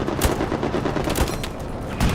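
Continuous gunfire rattles through a Hell Let Loose battle on the Eastern Front, with bursts of rifle and machine-gun shots, some heavier close reports, and a dense background of distant firing.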